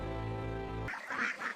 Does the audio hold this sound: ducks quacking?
yes